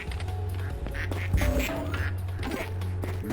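Many cartoon ducks quacking rapidly and loudly in the automated duck-feeding machine of the video game Project P.I.T.T., overlapping quacks in a dense, fast stream over a steady low mechanical hum.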